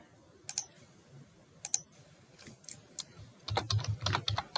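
Keys on a computer keyboard are tapped in short bursts, with a denser run of rapid clicks near the end, close and fairly quiet against a still room.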